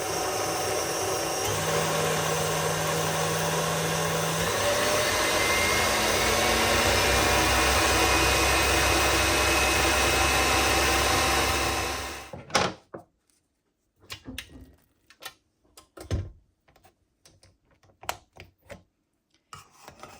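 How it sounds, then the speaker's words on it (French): Mascarpone cream with icing sugar and vanilla sugar is beaten by an electric mixer, a loud steady whir running for about twelve seconds before cutting off, followed by scattered clinks and knocks of bowl and utensils. "Et je vais bien battre le tout jusqu'à obtenir une crème qui soit épaisse comme de la crème fraîche."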